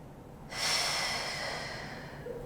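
A person in a deep squat takes a long, deep inhale, a steady close breath that swells quickly and then holds at an even level for about two seconds before a small catch at the end.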